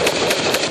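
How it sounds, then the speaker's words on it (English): Rapid gunfire during a firefight in Afghanistan, where Australian troops come under insurgent attack: a quick, loud burst of several close shots in a tight rhythm, with no voices. "A firefight in Afghanistan last August."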